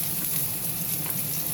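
Garlic browning in a little oil alongside chicken wings for honey-glazed wings, giving a steady, dense sizzle and fry that holds evenly throughout without a break.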